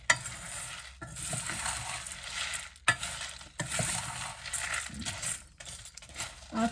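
Gram, fenugreek and coriander seeds being stirred while dry-roasting in a pan, with a steady rustling scrape and occasional light metallic clinks from the spoon against the pan, close and moderately quiet.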